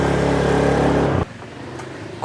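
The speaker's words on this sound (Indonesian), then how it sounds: "mending kita langsung cobain aja motornya" A motorcycle engine runs loud and close with a buzzing, steady tone, then cuts off abruptly, leaving near silence.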